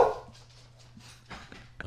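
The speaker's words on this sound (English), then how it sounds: "if you don't want to hear a dog bark, don't listen to this shit" A dog gives a few short, muffled barks and yips at moderate distance, brief separate bursts over a low steady hum, with no one talking.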